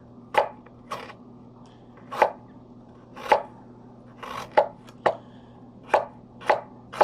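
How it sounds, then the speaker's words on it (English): Knife chopping kimchi vegetables on a board, nine or so distinct sharp chops in an uneven rhythm, close and clear over a low steady hum, no talking. "I'm just going to start, chopping like so"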